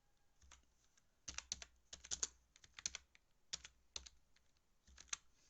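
Quiet, close typing on a computer keyboard while entering C graphics code: irregular clusters of crisp key clicks with short pauses between, no voices.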